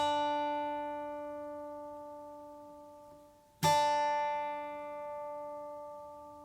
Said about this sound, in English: you're going to take this E string and tune it down to a D